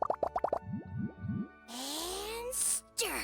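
Cartoonish plops as lizard tails, fish scales, mucus and slime condensate drop into a drink in Genshin Impact: a quick string of wet pops, then springy boing-like squelches and a bubbly gloop, close and isolated.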